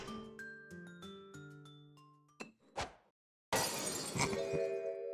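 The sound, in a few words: freshly uncorked glass bottle smashing in The Great Ace Attorney video game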